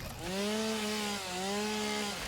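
A chainsaw from the game Satisfactory, a close, loud buzzing whine that rises and dips in pitch over two strokes, with no talk.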